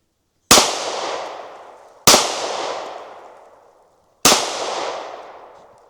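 Three loud, sharp gunshots from a SIG P365 pistol at a shooting range, evenly spaced about two seconds apart, each a sudden crack trailing off into a long ringing decay.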